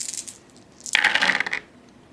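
A handful of eight dice clatters across a tabletop during a Fortune and Glory board game, a bright rattling roll lasting about half a second, close and clear, with no voices.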